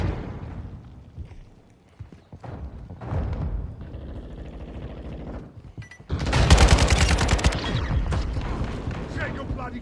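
Gunfire in a Call of Duty Modern Warfare II battle, a few scattered shots early, then a loud sustained burst of rapid automatic fire, with voices calling out between the volleys.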